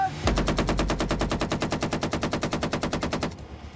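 Rapid automatic gunfire on an arms-dealer film set, a loud close burst of evenly spaced shots lasting about three seconds, then a quick stop into a short fading tail.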